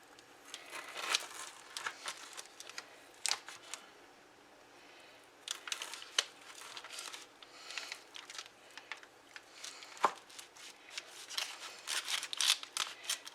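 A knife slices through sticky raspberry oatmeal cookie bars, giving soft, irregular scraping and crunching strokes in scattered bursts with quiet gaps between, close up, plus one sharper tap partway through.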